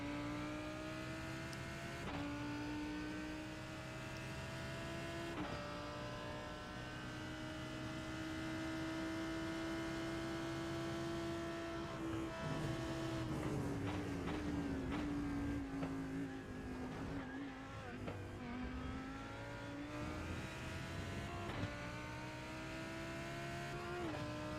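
Lamborghini GT3 race car engine heard onboard during a Le Mans endurance race in a racing video game, a steady high drone that rises and falls through gear changes, continuous and without talk.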